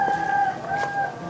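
A rooster crows at first light in rural Burkina Faso on election morning, a drawn-out tonal call holding steady and fairly close, rising in strength toward the end of its short span.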